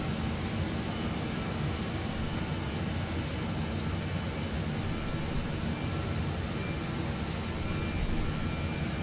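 Airliner jet engines in Microsoft Flight Simulator 2020 hold a steady, dense roar at cruise altitude, a constant broadband rush with no pauses and no voices.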